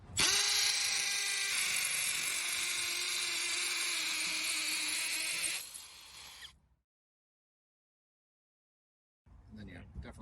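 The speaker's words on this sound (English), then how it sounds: "we got our Milwaukee M18. Starting with 3/16. 3/16, we'll work our way up. You put it on hammer." Milwaukee M18 hammer drill boring with a 3/16 bit in hammer mode, a loud, steady high-pitched whine for about five and a half seconds that winds down and stops, followed by silence and then faint noise.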